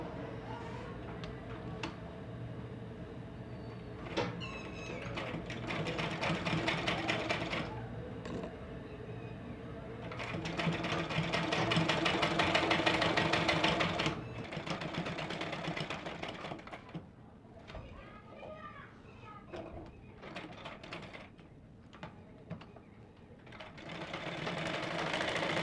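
An electric sewing machine runs in bursts, stitching lace along the edge of a blouse frill, a fast close mechanical whir that starts and stops several times with quieter pauses between runs.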